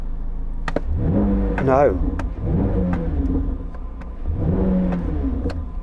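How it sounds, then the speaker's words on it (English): Flat-plane crank V8 in a Chevrolet Corvette Z06 revving in short bursts, with one sharp rise and fall in pitch, close and loud, a voice briefly talking between revs. "I'm going to rev up this flat plane crank V8."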